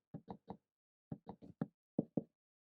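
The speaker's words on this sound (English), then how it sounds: "And then I knock out a little hole in to put my door." Blocks being broken out of a stone brick wall on a medieval house in Minecraft to make a doorway: about nine short, crisp crunching hits in three quick clusters, close and clear with brief silences between.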